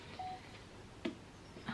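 A mobile phone notification chimes faintly indoors: a brief tone, then a sharper blip a moment later, with a steady low room hum underneath and no speech.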